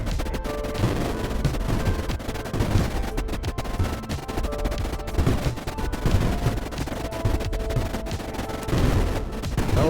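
Weapons in Creeper World IXE fire continuously at creeper, a dense, steady barrage of rapid shots and booms with a thick rumbling low end that never lets up.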